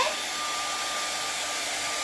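Steady, close roar of a hand-held hair dryer blowing air over wet paint on a cardinal picture, constant airy hiss with a thin motor whine running throughout.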